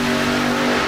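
A nitrous-fed drag racing car engine runs steadily and loudly at close range, a continuous deep mechanical roar with a strong low harmonic hum that holds without a break.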